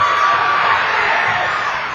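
A high school basketball crowd cheering loudly during a Scott vs Wyoming East game, a dense, continuous roar of voices and whoops filling the whole moment.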